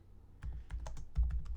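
Rapid typing on a computer keyboard, a quick run of distinct key clicks close to the mic with uneven rhythm and no voices.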